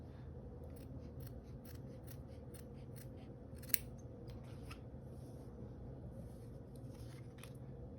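Scissors cut out a folded craft pattern piece for the arms of an autumn pumpkin gnome, with a series of crisp, quiet snips at an irregular pace and a soft background hum.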